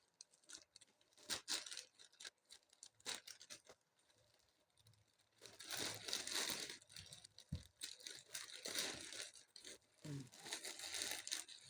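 Parcel packaging torn open and handled by hand, with close, loud bursts of crinkling plastic and ripping that start and stop irregularly, busiest in the second half.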